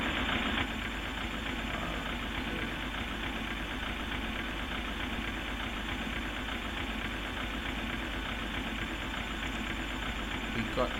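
In a flight simulator, a Boeing 737-800 NGX engine at Kuala Lumpur hums as a steady, even drone. The sound stays constant and moderately quiet throughout.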